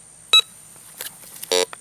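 A Bounty Hunter Quick Draw II metal detector gives electronic tones while passing over a silver target: a short high beep, fainter blips, then a longer, louder buzzing tone, each close and clear against a quiet background.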